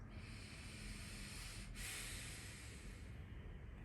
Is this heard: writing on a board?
no